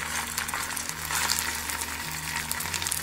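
Sago patties frying in a pan with a little hot oil, giving a steady close crackle and sizzle with small popping bursts throughout, no talking.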